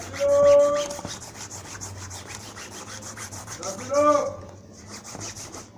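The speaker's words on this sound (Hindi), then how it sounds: "अमाइल लगाने के बाद में हम इसको रब करते हैं" Fabric stained with hair dye is rubbed with amyl acetate in a soft, continuous scrubbing. Brief tonal squeaks appear near the start and again around the four-second mark.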